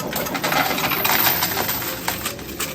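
A real-money coin pusher arcade machine grinds and rattles in a dense, continuous clatter of metal and coins, with no pause.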